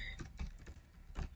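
Quiet keystrokes on a computer keyboard while coding a Python web scraper, a handful of separate clicks spaced unevenly over a second or so, close but soft.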